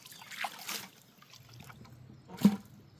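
Water trickles and splashes softly while gold concentrates are panned into a catch pan, with a few faint sloshes and one sharper splash near the end.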